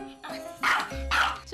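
A Maltese barks loudly and close by in several sharp, agitated bursts, with a voice speaking over part of it.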